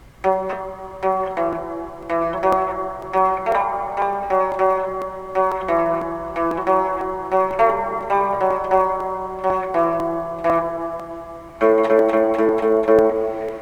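Short, muted electric guitar notes plucked one after another on the fourth string, fourth fret, in a steady rhythm, each dull and quickly damped, with no voices.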